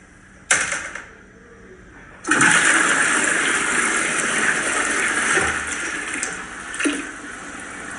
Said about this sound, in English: We'll do the big flush.